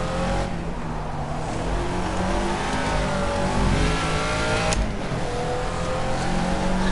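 A Caterham Seven classic racing around Monaco in the video game Project CARS, its engine droning loudly and continuously as it revs through gears, with rising and falling pitch and an occasional shift blip.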